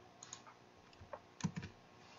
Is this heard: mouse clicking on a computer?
yes